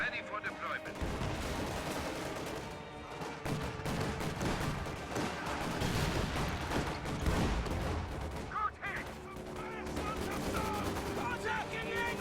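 Infantry gunfire fills a video game battle in a dense, continuous stream of rifle and machine-gun shots mixed with explosions and game effects, steady and loud throughout.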